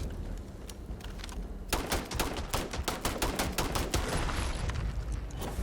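Heavy weapons fire rapidly in the video game Starfield, with a dense run of loud, sharp shots following a few sparse ones, close and with no talk over it.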